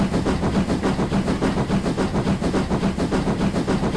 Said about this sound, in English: Steam emote for some chuffs.